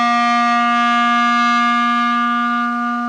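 A clarinet sustains a single steady C note, clear and unwavering for about three seconds, played alone and close with no other sounds.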